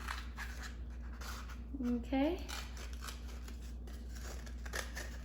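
Scissors snip through a cardboard toilet paper tube, a couple of close, crisp cuts in quick succession while someone talks.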